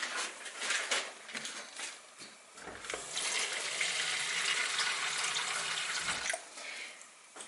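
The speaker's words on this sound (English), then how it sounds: "I'm going to put the rest of this water in here" Water poured into a container while restoring a WWI plaster medallion, a continuous splashing rush lasting several seconds, close and fairly loud, starting and stopping in short bursts.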